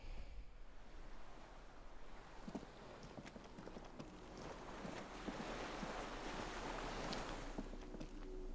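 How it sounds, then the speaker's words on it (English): Waves lapping at a dock where a skiff sways in Disco Elysium, a constant soft wash of water with wind and occasional knocking, low and steady throughout. "The skiff is swaying on the waves by the dock."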